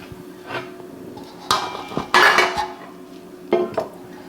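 A metal pan is picked up and set down on a cooker, giving a few clanks and scraping clinks in separate bursts, close and fairly loud with no talk.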